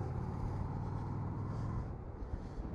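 Road traffic rumbles in Tokyo as a low, steady engine drone heard from inside a vehicle, easing slightly toward the end, with no voices over it.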